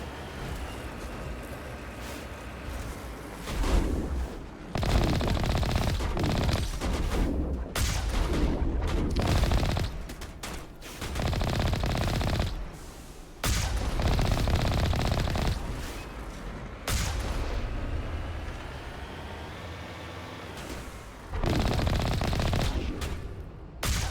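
Sustained weapons fire in the Mass Effect 1 video game, loud bursts of automatic gunfire and booms in repeated volleys separated by brief pauses, no talking.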